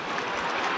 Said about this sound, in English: Crowd well and truly involved. They are roaring their approval at the moment.